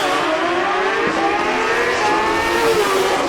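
A 2003 Suzuki Gixxer 1000 drag motorcycle with nitrous, no bodywork, tears down the drag strip, its engine a loud, sustained high-revving wail with a rising pitch sweep, heard up close without talk.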